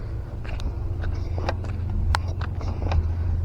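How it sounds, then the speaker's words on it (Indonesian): Trucks hauling fill soil on a toll road exit construction site near Padang–Sicincin: a steady low engine drone with scattered clanks and knocks, fairly close and continuous, with no talking. "Kendaraan yang mengangkut tanah timbunan juga sudah mulai beraktivitas."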